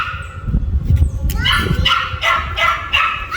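A new pet dog barks and yips close by in a quick series of short, sharp barks over a low rumbling background.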